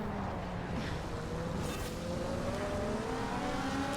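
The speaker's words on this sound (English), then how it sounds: "Seppi accelerates away." In the Forza Horizon racing game, a race car engine revs higher as it accelerates away, a steady rising drone with climbing pitch, loud and continuous, with no voices.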